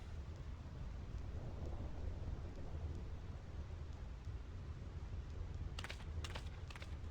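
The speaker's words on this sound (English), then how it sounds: "This storm never stops." A thunderstorm with steady, heavy rain hissing close by and low rumbles of thunder rolling underneath, a few sharp crackles near the end.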